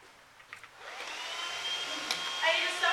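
A new vacuum pump draws air to prime an air-monitoring sample, a steady close whine with rising harmonics settling into a continuous drone, with faint talk near the start.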